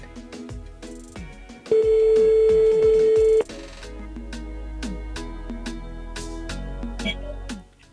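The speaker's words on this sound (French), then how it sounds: "on appelle Sarah du côté de Sainte-Rose." A telephone call rings out on a Réunion Island FM radio show, a steady electronic ring tone that sounds once for a couple of seconds over upbeat background music, with no talking.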